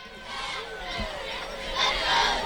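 Crowd noise at a high school football game: a steady, fairly loud murmur of many voices with scattered shouts, swelling toward the end.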